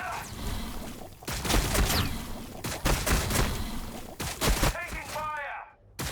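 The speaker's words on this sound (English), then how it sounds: "the Exocrine will also shoot at the same tank that's hurt" Tyranid Exocrine blasting at a tank in the strategy game Warhammer 40,000: Battlesector, a loud volley of booming shots and crackling impacts in several bursts, ending in a short fading tail.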